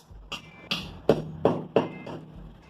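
A hammer handle taps plastic wall plugs into holes while a toilet is being installed. About six short, dull knocks land at an uneven pace, moderately close and alone.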